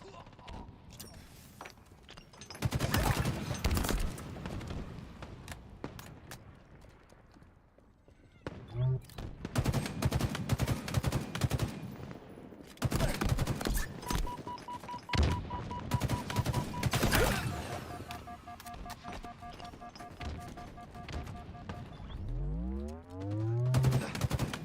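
Bursts of gunfire from a video game ring out in several loud clusters, with sharp rapid shots over game noise and electronic tones, ending in a rising whoosh.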